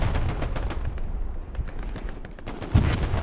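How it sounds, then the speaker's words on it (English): Artillery strike in an online World War II battle game, rapid bursts of gunfire and booming impacts in quick succession, ending in a louder blast. "Plus an artillery strike from the Axis commander."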